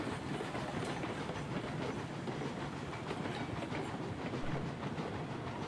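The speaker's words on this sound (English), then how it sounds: "The train looks like late 1800s style Western Railroad type." A late-1800s style Western railroad train rolls along its tracks, with a steady, dense clickety-clack of wheels over rail joints holding close and loud without a break.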